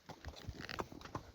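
Horse hooves strike a rocky mountain path in Kumrat Valley, giving a few quick, uneven clops on stone, faint and nearby.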